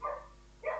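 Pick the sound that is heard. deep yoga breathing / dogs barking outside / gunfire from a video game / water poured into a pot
dogs barking outside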